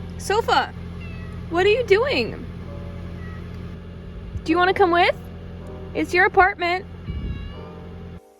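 A pet cat lets out several insistent meows in bursts over a low, steady engine rumble, while someone talks to her between the calls.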